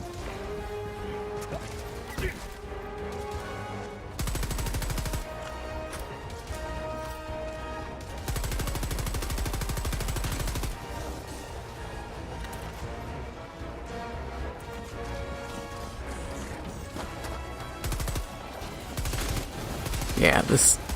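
Gunfire from a machine gun sentry in Helldivers 2 crackles in bursts amid loud game music and effects, with sustained rattling stretches around 4 to 10 seconds, fairly quiet overall and mixed with other battle noise.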